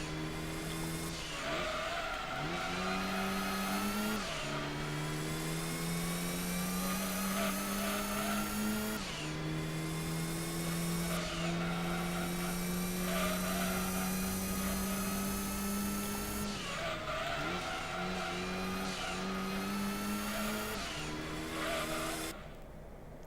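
A race car in Gran Turismo 2 revving hard, its engine note climbing through each gear, dropping at the shifts, then climbing again, loud and continuous, with tire squeal over the top.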